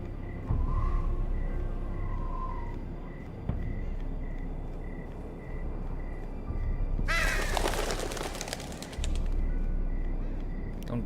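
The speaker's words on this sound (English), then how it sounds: "Don't do that, you stupid birds." Crows cawing in the video game Telltale's Game of Thrones, a burst of harsh calls around the middle over a steady ambient game backdrop, with fainter bird sounds earlier.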